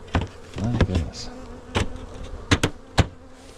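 Honey bees buzz steadily around an open hive during an inspection while a super is added, with a few sharp knocks and taps of equipment standing out over the drone.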